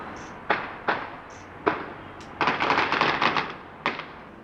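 Israeli forces open fire on Palestinians: sharp, scattered single gunshots crack at a distance, then a quick burst of rapid shots, with no voices.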